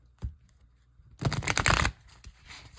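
Tarot cards from the Dreams of Gaia deck are shuffled in one close, dense riffling burst of about a second, preceded and followed by soft handling taps.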